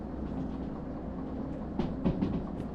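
A small, light train in the Derail Valley railway game rumbles along steadily, with a few louder clunks and rattles toward the end and no talking.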